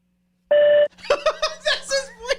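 A short, clean voicemail beep on a phone call, a single loud tone followed right away by a person talking.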